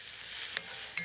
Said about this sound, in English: So we'll just stir that around